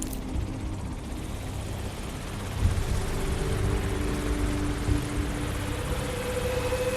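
A drone flying in the video game Watch Dogs gives a steady whirring rotor drone with a faint engine hum, moderately quiet and continuous, with a couple of soft bumps.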